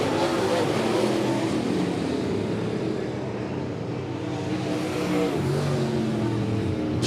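A late model race car runs down the backstretch at Monett Motor Speedway, its engine a loud, steady roar that blends with other cars and crowd noise, while an announcer talks over it.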